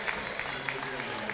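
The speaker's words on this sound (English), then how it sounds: "a nice round of applause for Megan Ney, headed to the bench with 37 5/10" Applause from a home crowd at an Elmhurst College women's basketball game against Carthage College as a player heads to the bench, a steady, moderately loud clapping wash with talk over it.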